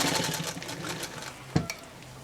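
An off-grid sewing machine running a fast basting stitch makes a quick, rapid mechanical chatter that slows and fades, ending with a sharp knock and a couple of softer clicks.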